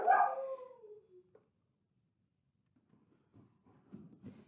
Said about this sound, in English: I pulled my dog away from the door where she was barking.